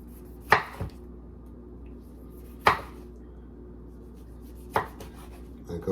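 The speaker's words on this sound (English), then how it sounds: "you just chop it up in little" Knife strikes on a cutting board while a medium Roma tomato is diced into small squares, three separate sharp chops spaced about two seconds apart, close and clear with no speech.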